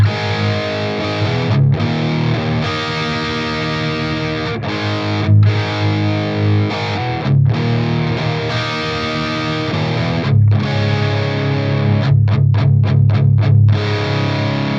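Heavy distorted electric guitar through a Mesa Boogie 90s Dual Rectifier Reissue 2-Channel amp with all tone settings zeroed and only a noise gate, playing chugging riffs with sharp gated stops and a fast stuttering burst near the end.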